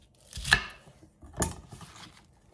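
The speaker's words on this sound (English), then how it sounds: "we're just going to cut it up, just slice it up." A knife slices through washed greens on a cutting board in two distinct, fairly soft chopping strokes, each followed by a light scrape, with no talking.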